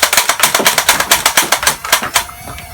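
Rapid bursts of darts fired one after another from a USB-powered Nerf Modulus blaster, about a dozen sharp mechanical pops in a quick steady rhythm, close and loud, then a faint quieter tail.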